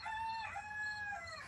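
A rooster crows once nearby in a backyard flock with hens and chicks, a clear drawn-out cock-a-doodle-doo with a rising then sustained tone over low background hum.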